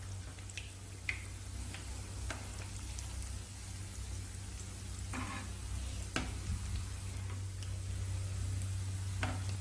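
Chettinad masala seeyam, or paniyaram made from idli batter, frying in hot oil gives a steady, close sizzle with scattered sharp crackles and pops throughout, with no talking.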